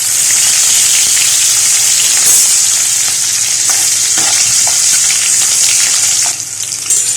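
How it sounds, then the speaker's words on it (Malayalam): Ginger, garlic and green chillies with sliced red onion and shallots sauté in an oil-filled pan, giving a loud, continuous sizzling hiss up close, with occasional spoon stirring and scraping and no speech. "ഇഞ്ചിയും വെളുത്തുള്ളിയും പച്ചമുളകും കൂടെ ഒരുമിച്ചിട്ട് ഞാനൊന്ന് വഴറ്റി എടുത്തതിന് ശേഷം ബാക്കി ചുവന്ന സവോള അരിഞ്ഞതും ചുവന്നുള്ളിയൊക്കെ ചേർക്കുന്നത് കേട്ടോ"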